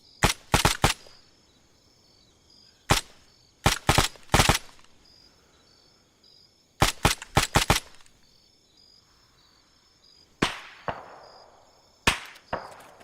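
Gunfire in the video game Arma 3 with the Antistasi mod, arriving as sharp, loud bursts of rapid shots in clusters of three to five, spaced by short pauses, with a faint steady tone beneath.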